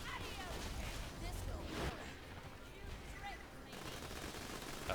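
Borderlands 2 gunfire crackles in dense, continuous volleys with bouncing bullets, a noisy barrage of shots and impacts heard under a speaking voice.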